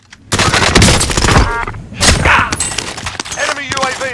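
Rapid bursts of OTS 9 submachine gun fire in Call of Duty: Warzone, loud and close with sharp repeated cracks, short pauses between volleys, and impacts layered on top.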